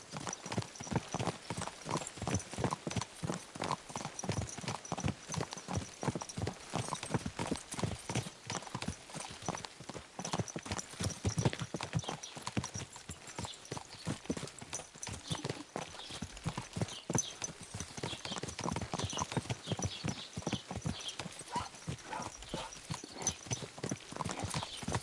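Hooves clip-clop steadily as a horse is ridden in Kingdom Come Deliverance 2, a fast continuous rhythmic beat that runs for the whole stretch at moderate volume, with no talk over it.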